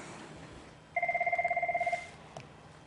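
A telephone signals an incoming caller with one rapid electronic trill, a fast pulsing ring lasting about a second over faint background noise, with a small click after it.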